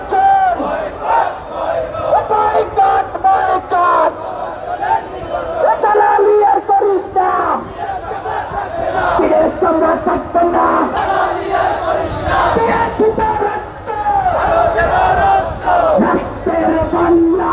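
A large protest march by Khelafat Majlis supporters chants slogans in unison, loud rhythmic call-and-response shouting from many voices close by, rising and falling in waves with crowd noise underneath.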